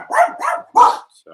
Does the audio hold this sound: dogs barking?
yes